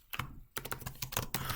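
Rapid, uneven clicks from a computer keyboard being typed on, quick bursts of keystrokes close to the mic with a short pause near the start, no voices.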